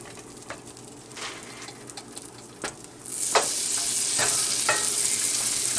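Butter melting in a pan for a pork stir fry, a soft hiss with scattered faint crackles that rises into a steadier, louder sizzle partway through, with no talking.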